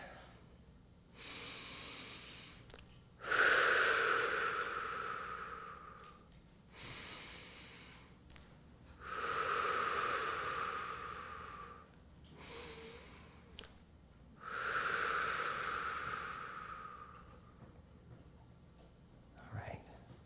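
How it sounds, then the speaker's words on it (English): Slow, deliberate breaths drawn in through the nose and released through the mouth during a guided relaxation session, three long airy exhales spaced evenly and heard up close with no talking. "We breathe in through our nose and out through our mouth."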